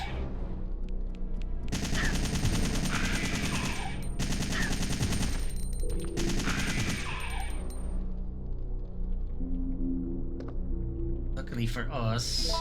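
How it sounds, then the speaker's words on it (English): Rapid assault rifle bursts crackle in Resident Evil 3: Nemesis, loud and close, in several spaced volleys while someone talks over much of the gunfire. "The assault rifle stun locks these hunter types."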